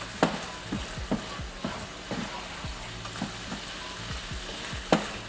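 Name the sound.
food frying in butter in a pan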